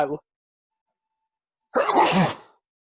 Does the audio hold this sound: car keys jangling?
no